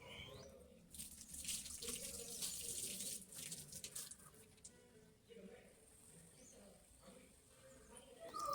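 Tap water running and splashing while a container is rinsed in a home kitchen sink, a steady close rush that thins out midway, with someone talking over it.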